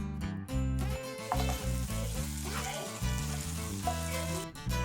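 Ghee and a little sugar sizzle in a pan with a continuous frying crackle, close and moderately loud, over a steady tonal background.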